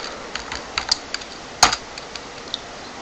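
Quick keystrokes on a computer keyboard entering network configuration commands, a sparse run of light clicks with one sharper, louder key hit near the middle, close and alone without talk.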